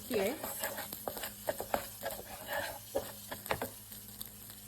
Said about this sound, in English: I cook the eggs.